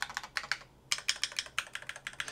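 Fast typing on an MCHOSE ACE60PRO magnetic switch keyboard, crisp close keystrokes in quick irregular runs with a brief pause near the start, slightly hollow and tinny in character.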